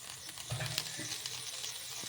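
Moong dal dosa batter sizzles softly on a hot pan, a faint, steady crackling hiss with small pops, heard alone.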